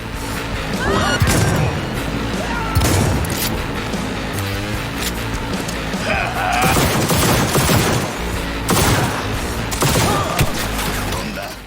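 Dense, loud gunfire in the video game Cyberpunk 2077 during corner shooting, with rapid bursts, crashes and impacts running continuously throughout.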